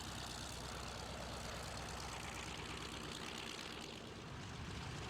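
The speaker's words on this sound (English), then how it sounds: "Here's the Bearcat, the last of the big piston-engine fighters from Grumman." A Grumman Bearcat, a big piston-engine fighter, flies at an air display. Its engine drone is loud and continuous, with the pitch shifting slightly as it passes.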